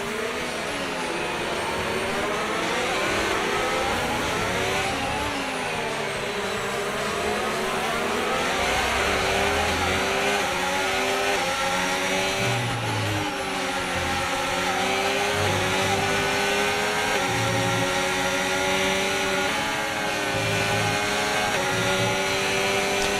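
Game audio of a Formula 1 car in F1 25 at full throttle, a loud, continuous high-pitched engine whine sweeping up and down through the gears for over twenty seconds, with no pauses.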